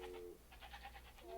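Sheep in the real-time strategy game Age of Empires bleat in a short series of nasal calls, moderately close, against a steady low background hum.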